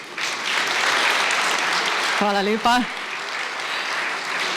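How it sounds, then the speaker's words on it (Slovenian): Audience applause for a flute quartet at a formal awards ceremony in Ravne na Koroškem, a steady wash of clapping through the whole stretch while someone briefly speaks over it. "torej kvartet flavtistk, dajmo jim zaploskati."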